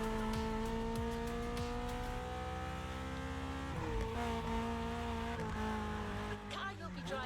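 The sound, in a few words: Porsche 911 Turbo 3.6 racing engine, The Crew Motorfest video game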